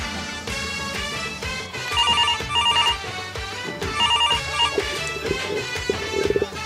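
A telephone rings repeatedly in bursts of bright electronic chirps over loud background music, the ring pattern repeating about every two seconds, with no talking.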